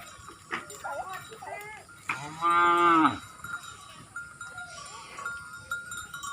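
Cattle or buffalo low in a rural setting, with one loud drawn-out moo in the middle, nearer and stronger than the surrounding faint calls, while people talk in the background.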